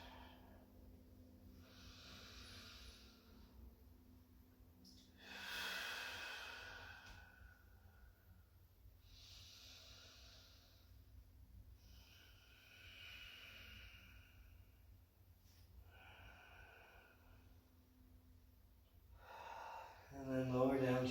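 Slow, deep breaths during a gentle yoga flow, long airy inhales and exhales repeating in a calm rhythm, close and soft over low background hum.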